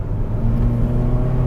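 A Mitsubishi Xforce Ultimate engine strains under kickdown at low revs, a steady, loud, low droning rumble with a whirring edge that holds without letup.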